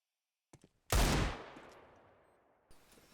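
A single loud, close gunshot blast rings out in Counter-Strike during an ESEA Open match, its echo trailing off over about two seconds. A couple of faint clicks come just before it and a softer sound follows near the end.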